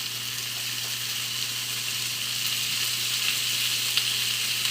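Tomatoes sizzle in a pan with caramelized onions and olive oil, making a steady, even hiss with a faint low hum beneath it.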